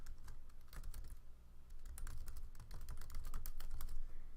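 Someone types an email address on a computer keyboard. The keys clatter in quick, uneven bursts, close and clear, with short pauses and steady background hiss, and no voices.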